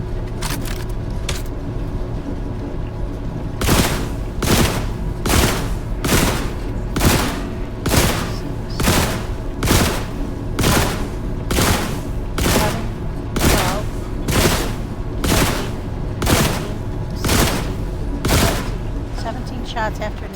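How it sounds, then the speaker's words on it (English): Gunshots ring out in a video game, The Last Caretaker, after an electric bomb: about a dozen loud, sharp blasts fire in a steady, evenly spaced rhythm over a low background rumble. "Shots after an electric bomb."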